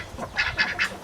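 Backyard ducks in autumn in Australia give three short, nasal quacks in quick succession, fairly close and clear, with no talking.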